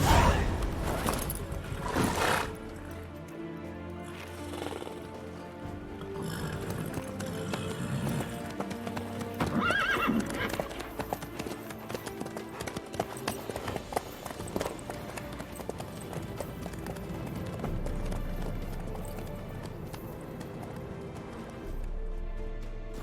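A horse in The Witcher 3 trots and gallops with steady rhythmic hoofbeats and a brief whinny early on, set under a game soundtrack with occasional dialogue.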